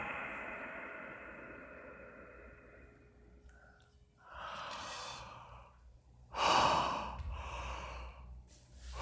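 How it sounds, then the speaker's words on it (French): Slow, audible breaths during a yoga breathing exercise: a soft steady airflow, then two louder sighing exhales, the second the strongest, close and unaccompanied by talk. "Expirez."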